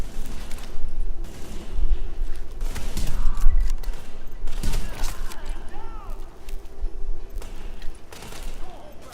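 Gunfire from The Division video game comes in bursts of rapid shots among mechanical clicks and clatter, fairly loud and continuous across the stretch.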